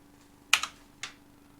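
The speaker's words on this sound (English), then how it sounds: "hold the control key, select that corner, and type some sort of radius" A few quick keystrokes on a computer keyboard while entering a corner radius value in CAD software: two close taps, then a third a half second later, faint and isolated in a quiet room.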